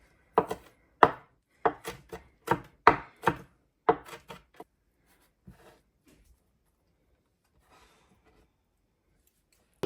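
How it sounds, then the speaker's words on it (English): Fresh basil being roughly chopped with a knife on a board, about a dozen crisp, fairly close cuts in a quick rhythm over the first five seconds, then tapering to a few scattered taps and near silence. "we're going to take some of that fresh basil and roughly chop that"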